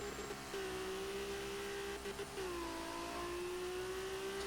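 A race car in a Formula-style Indianapolis video game screams near red line in second gear, a sustained high engine whine that holds steady, briefly dips, then climbs again over faint background noise.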